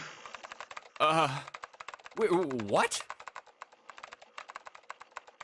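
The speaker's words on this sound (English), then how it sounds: "You're typing so fast, I can't even see your fingers." Rapid keyboard-typing clicks from the video game 999 (9 Hours, 9 Persons, 9 Doors) run steadily in a fast patter, broken twice by a voice speaking over them.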